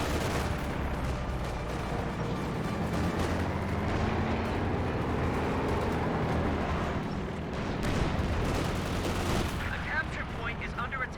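Machine gun fire in the Company of Heroes 2 strategy game, dense battle noise with continuous rattling bursts and distant explosions, steady and loud throughout, with a voice talking over part of it.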